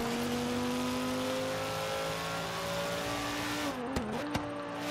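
A Lamborghini Gallardo engine in Forza Horizon 3 drones steadily at cruising revs, smooth and loud throughout, with a brief dip and a couple of sharp clicks near the end.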